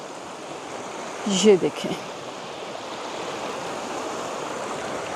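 Cold mountain stream water flowing in a steady broadband rush, close and continuous, with a brief spoken phrase near the start.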